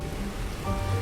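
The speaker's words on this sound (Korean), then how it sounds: "비가 내리는 주말밤" Steady rain falls on a weekend night as a sound effect behind a horror story, a dense, even hiss of drops that stays moderately loud from start to finish with no voices.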